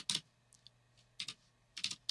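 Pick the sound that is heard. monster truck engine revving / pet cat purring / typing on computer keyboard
typing on computer keyboard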